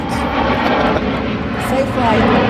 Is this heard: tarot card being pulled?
no